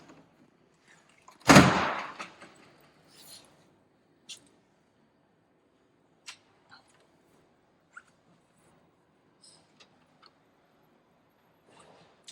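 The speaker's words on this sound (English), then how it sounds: "Then I'm going to shut the door." A Vinyl Bubbler jukebox door shuts with a single sharp thud, followed by a few faint clicks and small handling taps in an otherwise quiet room.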